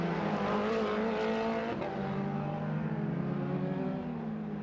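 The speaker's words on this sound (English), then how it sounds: "Down through the gears, hard on the brakes, turn into the left at turn 10" An MRF2000 single-seater race car at the Madras Motor Race Track in Irungattukottai downshifts through the gears under hard braking into a left-hand corner, its engine note loud and close, falling in pitch with continuous harmonic whine.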